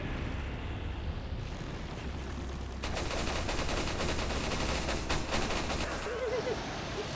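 Gunfire from a weapon in the video game Resident Evil, a dense continuous burst of loud shots running through the clip with steady game noise beneath.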